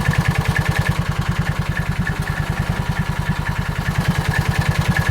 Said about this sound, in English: idling about 1200 with it in drive with a little bit of load on the engine